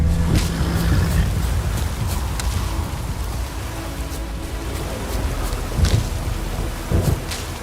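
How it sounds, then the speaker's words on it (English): A thunderstorm in The Witcher 3 brings steady heavy rain with low rolling thunder and a few sharper crackles, loud and continuous throughout. "A storm, damn it."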